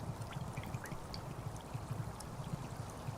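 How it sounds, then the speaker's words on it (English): Water filling a bottle in the survival game DayZ Sakhal: a faint, steady trickling stream with soft rhythmic gurgles, continuous and alone for a few seconds. "So we'll fill the water up again."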